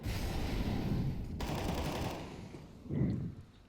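Automatic covering fire in CS:GO, a dense continuous rattle of rapid shots close up and loud, easing briefly before another burst near the end.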